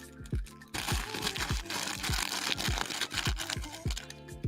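A crinkly plastic toy duck handled close by, with repeated rustling crunches and crackles in an uneven rhythm throughout, plus a few faint background sounds.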